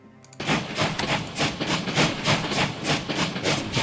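A train rolls along in a strategy war game, loud, rhythmic chugging with hissing bursts that repeat steadily all the way through.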